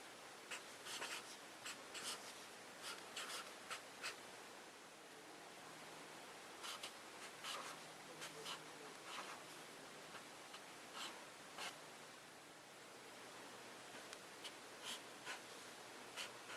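Pen strokes scratching across paper as kanji characters are written, a steady series of short, soft scraping marks with brief pauses between them, quiet and close with no voices.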